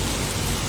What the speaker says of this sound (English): And now we're doing the walking in the rain, sad stuff.